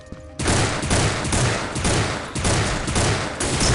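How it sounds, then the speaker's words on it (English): Rapid automatic gunfire from the PC shooter game Soldier of Fortune II: Double Helix, loud, dense bursts that begin after a brief quiet start and continue almost without break. "There's all kinds of firepower in Soldier of Fortune 2"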